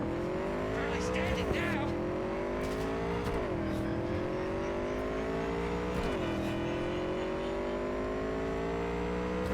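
Batman's bike in Cyberpunk 2077 accelerating, a loud close engine whine that climbs in pitch through several gear shifts, each drop followed by another rising pull.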